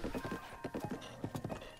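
Horse hooves clip-clop in a quick, steady rhythm from Zelda: Breath of the Wild, moderately close, with a faint whinny-like tone threaded beneath the beats.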